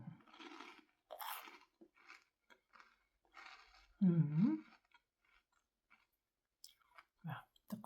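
Close, crisp crunching and chewing of a crunchy Nutella breakfast, several bites and munches in an intimate, quiet setting, with soft murmurs and a hum between.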